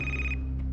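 A brief burst of an electronic telephone ring, a bright steady tone that cuts off after a moment over a low hum.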